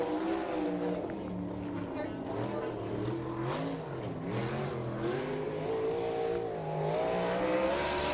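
A non-wing sprint car, a 305 Econo Sprint, races around a dirt oval, its engine droning and rising and falling in pitch throughout, with an announcer talking over it.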